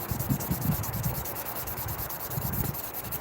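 Slingshots painted green and orange being sanded by hand without a vise, giving a steady scratchy rubbing in repeated short strokes, close up, with no talking.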